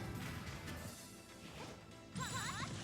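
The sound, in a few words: Zelda forward smashes colliding in a Super Smash Bros video game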